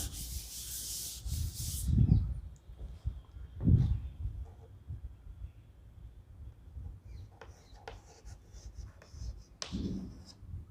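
Chalk or marker rubbing and scratching across a classroom board, in several short scraping strokes with quiet gaps between them.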